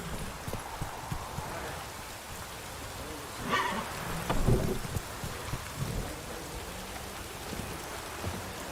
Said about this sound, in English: Lightning strike.